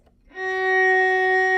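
A single sustained F sharp note on a string instrument's D string swells in after a brief quiet moment and then holds steady and clear, rich in overtones.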